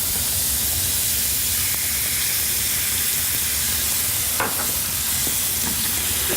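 Steak sizzling in a pan with buffalo steak sauce of blue cheese and hot sauce, a steady loud frying hiss with a few stirring scrapes.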